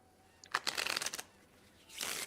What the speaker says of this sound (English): he'll pull up the cards, shuffle, and then draw 9 more and lay them out